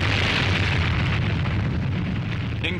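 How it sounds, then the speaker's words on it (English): An atomic bomb test explosion on an old archival recording gives a sustained, heavy roaring rumble. It is loud and continuous, with no talk over it. "The explosion had a beauty that cannot be described, the beauty great poets dream about."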